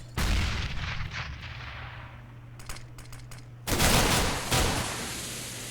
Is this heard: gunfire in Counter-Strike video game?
yes